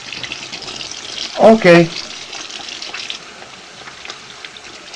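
Tap water runs steadily into a sink for hand washing, a soft continuous hiss throughout with a brief spoken word partway through.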